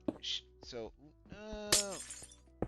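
A glass block breaking in a Minecraft SMP game gives a brief crisp shatter amid a player's steady talk.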